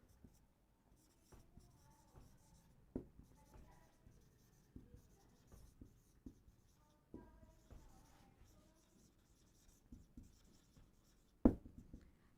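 A marker writes on a board during a Hindi biology lesson on receptor cells, giving faint, intermittent scratchy strokes in short bursts with a louder tap near the end. Quiet room, no speech over the strokes.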